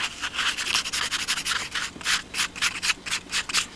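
Rapid back-and-forth scraping of sandpaper over hardened thick CA glue on a model Spitfire, a steady run of short rasping strokes up close with no talking.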